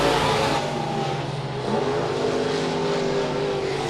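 Engines of USRA B-Modified race cars snarl continuously as the pack laps the Monett Motor Speedway oval in a weekly heat race, a loud, layered roar with shifting revs.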